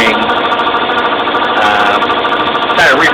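A rebuilt Yardman 18hp tractor engine with a honed-out cylinder and oversize rings runs close by, a loud, steady idle with a rough, even chug and slight vibration throughout.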